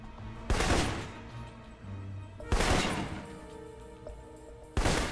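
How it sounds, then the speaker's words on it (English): Three heavy assault rifle bursts from a stealth-action spy game, each a loud broadband crack with a ringing tail, spaced roughly two seconds apart over low ambient hum. "For long-range encounters, the assault rifle's the key."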